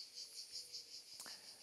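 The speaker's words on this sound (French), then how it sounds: "Je marche lentement avec toi, avec les cigales." Cicadas chirping outdoors during a slow walk: a high, pulsing buzz repeating in quick regular bursts, faint and steady, with a brief click partway through.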